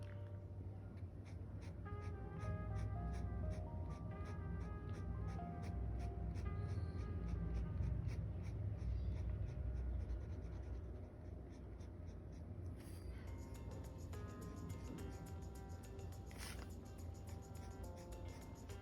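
A pen scratches across paper in quick, repeated cross-hatching strokes while shading hair on a portrait, soft and close with a steady rhythm and no talking.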